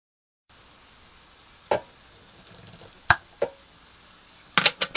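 Golf-ball-sized meatballs brown in a hot pan with a faint steady sizzle. Several sharp clacks and scrapes of a utensil against the pan break in, and a quick cluster of clinks comes at the end.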